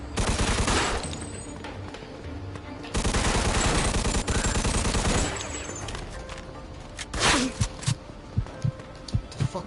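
Bursts of automatic and single gunfire in the Mafia 2 video game, loud sustained volleys early on, then a sparser run of sharp individual shots toward the end.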